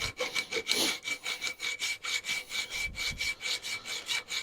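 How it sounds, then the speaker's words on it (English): A hand file rasps back and forth across metal in steady, rhythmic strokes, each pass a gritty scraping sound, close up and continuous with no talking. "I'm manually filing this out because I don't have a shaper"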